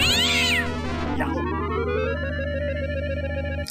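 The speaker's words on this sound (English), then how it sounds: "Let's check out these cats." A cat from the video game Indiana Jones and the Fate of Atlantis, one of Tutankhamun's pets, lets out a single long wavering meow that bends upward, loud and close over a steady electronic hum.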